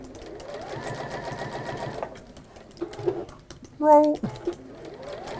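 A sewing machine stitches round bag handles in a steady whirring run, then stops and starts in shorter bursts while a person talks nearby between the stitching.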